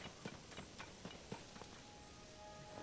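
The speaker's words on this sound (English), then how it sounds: "Hey, there's a big horse, which I'm gonna have to steal from you." A horse's hooves clip-clop at a walking pace in Zelda: Tears of the Kingdom, with a handful of fairly quiet, evenly spaced hoofbeats set against a soft game ambience.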